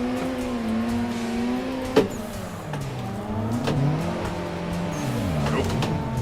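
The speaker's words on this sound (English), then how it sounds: "Turbo's rowdy today." Drift car engine in Assetto Corsa revving and wavering in pitch with a rowdy turbo, sustained and up close, with a sharp transient click and tire noise under the engine drone.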